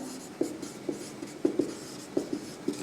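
A pen or chalk scratches across a classroom board during a physics lesson, making short, light strokes in an uneven rhythm. The strokes are close and fairly quiet, with no talking over them.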